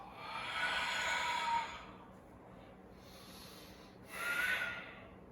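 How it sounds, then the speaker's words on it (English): A slow, audible exhale through the nose during a yoga breathing exercise, a soft breathy rush that fades, followed by a second quieter breath, close and alone without talking. "And exhale."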